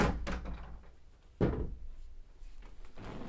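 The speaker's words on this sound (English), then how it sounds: "My door is magical. It opens on its own when there's no draft of wind." A door swinging open by itself with no draft: a few soft knocks and thuds, then a louder clunk midway and further faint bumps and creaks, quiet and close, with no speech.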